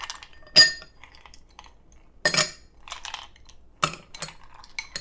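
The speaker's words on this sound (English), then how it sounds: "the first thing I'm going to do is fill my Collins glass with ice" Ice cubes drop into a Collins glass in several separate bursts, each a sharp, bright clatter and clink, with near silence between them.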